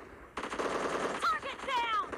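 Rapid gunfire in PUBG Mobile team deathmatch, a dense burst of automatic shots right up close and loud, with whizzing tones near the end.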